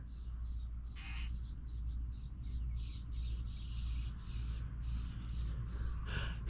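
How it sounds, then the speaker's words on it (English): A bird calls near its nest in a backyard planter, with repeated short chirps over a steady buzz of insects and crickets, outdoors and fairly distant. "there's my bird"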